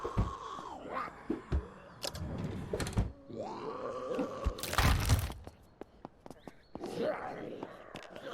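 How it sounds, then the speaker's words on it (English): A door breaking in the zombie survival game Vein: a sudden loud crunching, splintering burst in the middle of the clip, among groaning and creaking game ambience with other thuds and clicks around it. "Door broke somewhere."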